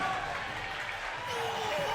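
Crowd at a fighting game tournament cheering and applauding in a steady, dense roar that swells slightly toward the end, with no clear voices standing out.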